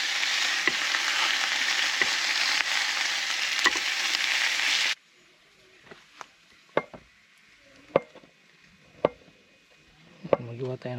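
A home-cooked dish frying in a pan at a riverside campsite near a waterfall, a steady loud sizzle for about five seconds that cuts off, followed by scattered quiet clinks and knocks of cookware.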